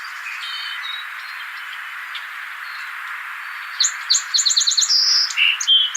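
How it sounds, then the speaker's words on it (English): A songbird sings a bright run of repeated chirping phrases, close and clear, rising out of a steady hiss of background noise after a quiet start. "but then suddenly the bird starts singing"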